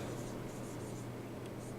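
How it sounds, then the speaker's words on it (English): Pen or marker scratches across a writing surface in a lecture setting, short strokes recurring in bursts over a steady low background hum, fairly quiet and close. "let me write it all out so you get it in your notes"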